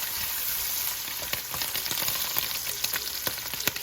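Sausage sizzles in hot oil in a pan for a Cajun Creole dish, a close, continuous crackling hiss dotted with sharp pops and spatters.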